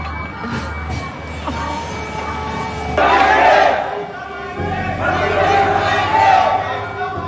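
An angry mob on a train attacks a man and drags him off, raising a loud, surging roar of shouting voices and chaotic babble that swells in two waves.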